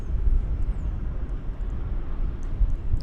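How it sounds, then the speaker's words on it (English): Japan Airlines Boeing 777 on final approach to DFW runway 13R, a steady low engine rumble with wind buffeting, moderately loud and continuous, no talk. "Japan Airlines Flight 12 from Haneda, this is a 777, is about to arrive over on the runway"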